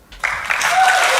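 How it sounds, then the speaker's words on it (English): A brief burst of clapping swells up quickly from near silence and holds steady, a small crowd applauding at a racing season finale at Bathurst. "Big round of applause to him."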